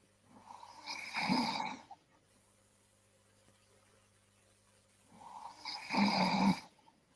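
A sleeping person snores in two long, rasping breaths several seconds apart, heard close with a steady low hum underneath and no talking.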